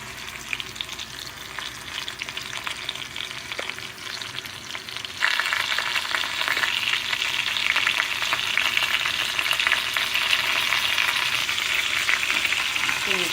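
Thick grouper fillet frying in a pan under a baking press, a dense continuous sizzle that grows noticeably louder partway through, close and steady with no talking.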